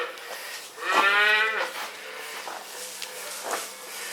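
Cattle on a dairy farm with about 240 cows: one clear, drawn-out moo rises near the start, followed by softer lowing and barn noise over a steady hiss, with no talk.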